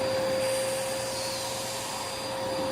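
A oneisall dog grooming vacuum sucks up dog hair, its loud, steady motor whine and rushing airflow holding constant from start to finish, with no talk.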